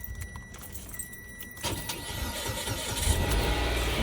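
A car engine cranks and catches after a battery jump start, preceded by a jangle of keys and a faint electronic tone, then settling into a steady idle that grows louder and rumbles on.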